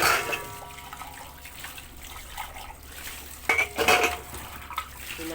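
Dishes and plates being washed under running water at a sink, with steady water flow and repeated clinks and clatters of dishware, a louder cluster of knocks near the end.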